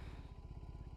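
A 2021 BMW R18 First Edition cruiser motorcycle with its big boxer twin running, a steady low throbbing pulse close by with even, rapid firing beats and no talking.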